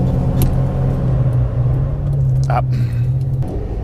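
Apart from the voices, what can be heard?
Lamborghini Diablo engine stalling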